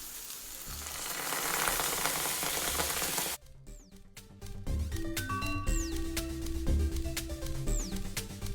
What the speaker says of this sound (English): Saute the mix for 2 minutes and then lower the flame of the stove and add coconut milk